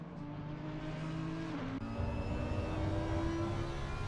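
A race car at speed on the circuit during the 24 Hours of Spa endurance race, heading toward Blanchemont: a steady, loud engine drone with a sustained whine that holds for the whole stretch, with no talk.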